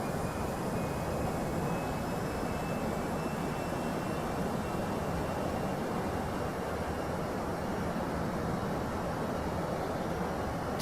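Airbus A320 jet engines at climb thrust in a flight simulator, a steady broadband roar with a faint high whine running evenly throughout, no talk over it.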